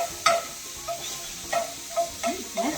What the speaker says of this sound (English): I have the shrimp inside of the pan. Okay? A little bit of oil, not too much.